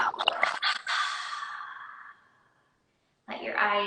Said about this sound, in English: a deep breath in together. Big exhale out.